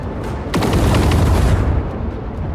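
A loud burst of gunfire from the Warhammer 40,000 game Rogue Trader, a rapid volley of shots over a roaring explosive boom that swells and fades within about two seconds, no talking.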